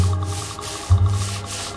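Something scratching at a bedroom door from outside, as a horror effect: slow, rhythmic rasping strokes, close and fairly loud, over a low droning hum.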